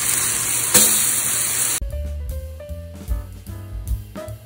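Honey-coated pineapple planks sizzle on a griddle, a loud, bright hiss that cuts off abruptly partway through, followed by quieter clatter and tapping sounds.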